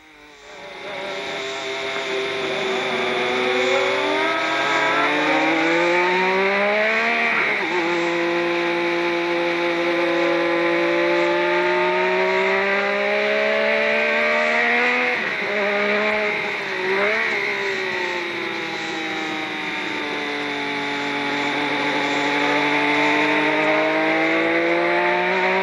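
Nigel Mansell's Lotus Formula 1 car lapping Brands Hatch in the 1980s, a loud, close onboard engine wail rising and falling through gear changes and corners for the whole lap section, with no voices.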